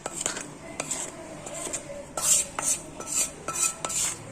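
A spoon stirs fried onions and masala into yogurt for majjiga pulusu, with repeated clinks of utensil against the bowl in an uneven rhythm of sharp, close taps and short scraping pauses, no talk.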